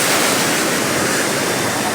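Incoming tide washing up a beach in Da Nang, a loud, continuous broadband rush of surf with no distinct breaks and no talking.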